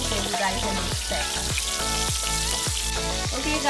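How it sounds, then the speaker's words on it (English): Seasoned fish fries in a pan for Guyanese stew fish, a loud, steady close-up sizzle with repeated soft sputtering pops running throughout. "the last set of fish is just done frying"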